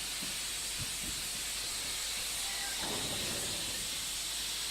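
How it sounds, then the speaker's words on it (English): Steam hissing from the cylinders of a 1950s Collett goods locomotive in a train simulator game on the Riviera Line, a loud continuous broad rush with faint low chuffs beneath, no voices. "Yes, that's what I call a proper reject of steam."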